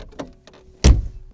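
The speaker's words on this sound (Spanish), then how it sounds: "para abrir la puerta en ese coche tenemos que accionar una palanca que hay por aquí debajo" A Citroën 2CV door, opened with a lever under the panel, gives a light click and rattle followed by a solid close-up thunk of the latch releasing.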